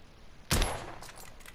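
A single sharp gunshot in the video game The Order: 1886, one sudden loud crack with a short decaying tail, standing alone against a quiet background.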